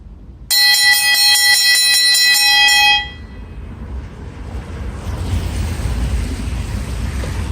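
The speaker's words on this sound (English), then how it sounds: "Bell lap when they come around." A bell rings rapidly for the bell lap at an indoor velodrome track race, a loud metallic clanging lasting a few seconds before giving way to a rushing wind-like roar.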